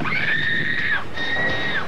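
A woman lets out two sustained high-pitched screams, the first longer, with a brief break between them.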